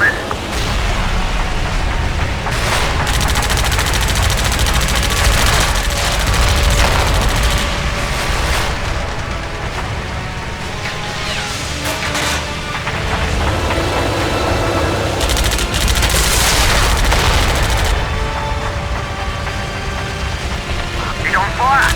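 Loud, dense machine gun fire in the WWII air combat game Heroes over Europe, with continuous rattling bursts over a droning aircraft engine and a voice speaking over the action.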